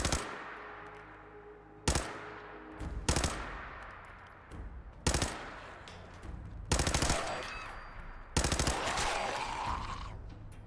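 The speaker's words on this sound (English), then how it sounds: "as a submachine gun, it is easier to control because there isn't as much recoil" A submachine gun firing in the video game Fallout 4: six or seven loud, separate bursts of rapid automatic fire, each a few seconds apart and trailing into echoing decay.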